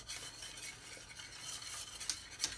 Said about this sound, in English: Give it a couple more stirs